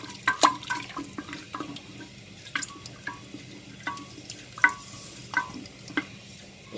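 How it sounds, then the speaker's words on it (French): Skinned chickpeas being stirred into a pot of chorba with cinnamon, a spoon knocking and scraping in light rhythmic clinks over a soft simmering sizzle, close by, with no talking. "Je vais remuer un petit peu."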